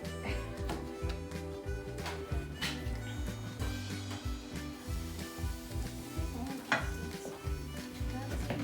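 Plum pancake batter sizzles softly in a hot pan while a utensil clinks and scrapes now and then, with a low steady background hum running throughout.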